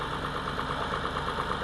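A small 48 horsepower tractor engine pulls a disc harrow in a field during fall tillage, a steady, droning mid-pitched rumble with a faint rhythmic knock, heard alone and fairly close.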